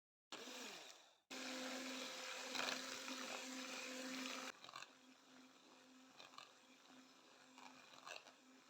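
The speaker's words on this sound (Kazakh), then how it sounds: "Енді қантты да бірден қосып, жоғарғы жылдамдықта араластыра бастаймыз миксермен." An electric mixer whirs steadily at high speed, beating eggs and sugar for a sponge cake batter, loud and continuous for several seconds before dropping to a quieter, uneven churn.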